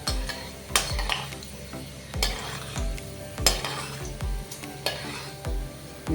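Fenugreek seeds frying in hot oil in a pan, a steady sizzle broken by repeated sharp scrapes and clinks of a spoon stirring against the metal, close and regular.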